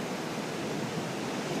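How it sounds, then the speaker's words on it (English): Ocean waves give a steady, soft, broadband wash of surf with no distinct breaks, faint and even throughout. "When I come here, I think about how vast the ocean is."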